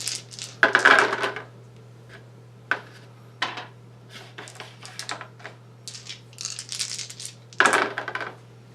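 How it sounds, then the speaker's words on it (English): Dice clatter onto a tabletop during a Warhammer 40k game in several separate sharp rattling bursts, close and crisp over a faint steady hum. "So with my awesome dice rolls"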